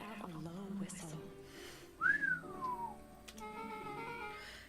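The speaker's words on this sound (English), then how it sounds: "Rolo let out a low whistle." Low descending whistle from Rolo in the Beacon Pines video game, a single sliding tone lasting about a second, set over soft background music with a voice talking before it.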